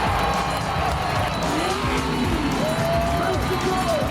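A drift car slides through a corner, its engine roaring loudly and continuously with tires squealing in rising and falling tones, while commentators talk over it.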